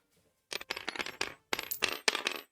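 Digital dice in a virtual tabletop game clatter in two quick bursts of bright rattling clicks, each lasting about a second with a short gap between, close and crisp with no voices.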